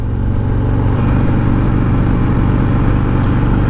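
A 2020 Harley-Davidson Road Glide Standard with an oil-cooled 107ci Milwaukee-Eight V-twin cruising in third gear at about 50 mph, giving a steady, loud low engine drone with wind rush, no voices.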